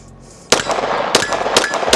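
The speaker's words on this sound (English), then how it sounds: "I definitely feel like the follow-up shots are easier on the strike frame." Pistol shots from a Glock fitted with a Strike Industries frame and an optic, fired at a range: a quiet lead-in, then several loud close cracks in quick succession with echoing tails between them.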